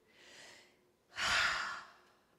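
During a talk, people breathe together: a soft, drawn-in inhale, a brief pause, then a louder, fuller exhale that trails off, airy and close.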